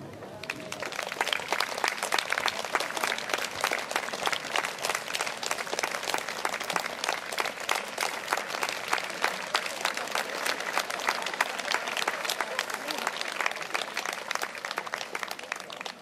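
Steady applause from a large crowd at a gathering of elderly people in Sargvere, Järvamaa, Estonia, accompanying the flag lowering; dense, continuous clapping that holds for the whole stretch, with faint voices underneath.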